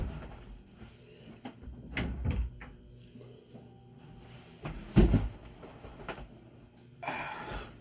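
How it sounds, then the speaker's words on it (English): A household door shuts nearby with a solid thud after some shuffling and rattling, followed by faint handling sounds, no talking over it. "I can close the door."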